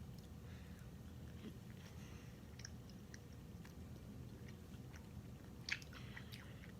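Close, quiet chewing of banana-flavoured peel candy, soft wet crunching and squishing bites spread across the clip with no talking.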